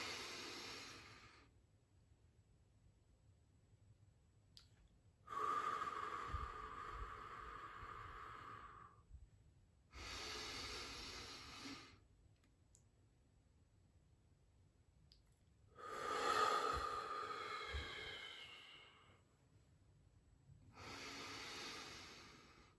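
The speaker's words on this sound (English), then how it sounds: "We're gonna inhale for 5, hold for 5, and then exhale for 8" Slow deep breathing at close range, with long hissing inhales and longer exhales separated by silent held pauses, repeated across several cycles and with no speech.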